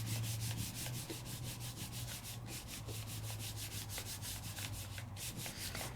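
Steady rhythmic rubbing across paper as the back of a rubber stamp is pressed down, a quick repeated scrubbing stroke with no talking.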